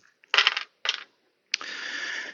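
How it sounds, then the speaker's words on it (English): Four dice for a tabletop basketball board game clatter onto a hard board in three quick bursts, the last a longer rattling tumble, close and crisp with silence between. "we're just going to roll all 4 dice"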